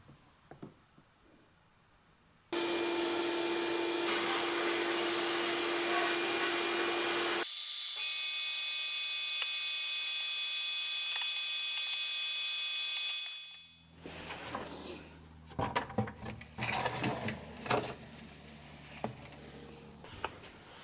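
Blast cabinet firing glass bead onto motorcycle fork tubes from a 1982 Kawasaki KDX 450: a loud, steady hiss of air and media that runs continuously for about eleven seconds, then cuts off and gives way to clanks and handling noises.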